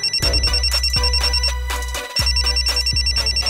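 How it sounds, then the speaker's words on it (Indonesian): A phone rings with an incoming call, a bright electronic ringtone repeating in a steady pulsing pattern, loud and close with a short pause midway and no one speaking. "Dia nelpon."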